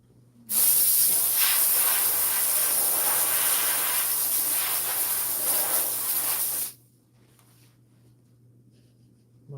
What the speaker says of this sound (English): It just looks funny when you're steaming in the sleeve and it's like pulsating.